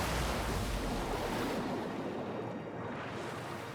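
Ocean surf roars in a loud, dense rush as a ship runs aground in the Pillars of Eternity 2: Deadfire video game, then eases into a softer, hissing wash of waves.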